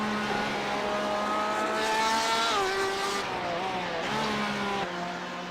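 A GTE sportscar in the iRacing sim at Homestead-Miami braking hard for turn 2, its steady engine tone dropping through downshifts with brief tire scrub, loud and close, no talk.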